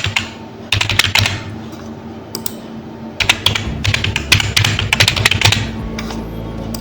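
A new password is typed on a computer keyboard, with quick bursts of close key clicks separated by short pauses and then a longer run of steady tapping.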